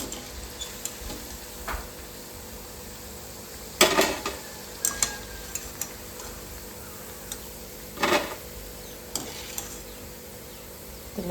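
Fish pieces frying in a pan, a steady sizzle under scattered clinks and scrapes of utensils against the pan, with louder clattering bursts as pieces are taken out and new ones dropped in.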